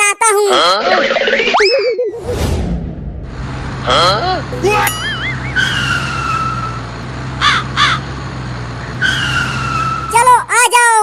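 Cartoon sound effects as a tempo, a small goods vehicle, arrives in a Holi comedy cartoon: springy boings, a skidding squeal and a steady engine drone, with voices talking over them.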